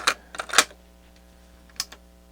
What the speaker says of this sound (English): Put tape in.